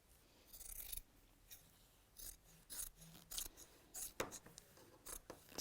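Scissors snip through fabric during Christmas sewing projects: a steady run of crisp, quiet cuts in an irregular rhythm, close up, with no voices.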